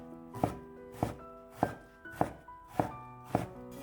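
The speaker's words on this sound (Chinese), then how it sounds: "再改刀切成细丝" A knife chops eggplant into fine shreds on a cutting board, giving a steady series of about six close, even thunks against a quiet background. Nobody speaks.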